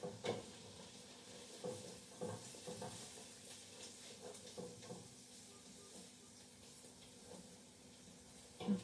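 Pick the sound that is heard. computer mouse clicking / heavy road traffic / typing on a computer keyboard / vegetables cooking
vegetables cooking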